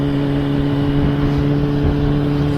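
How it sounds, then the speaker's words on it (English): Motorcycles passing on a road heard from inside a moving car, a steady loud engine drone with sustained tonal hum and no clear individual pass-by peaks. "See, here are the motorcyclists that I was just talking about."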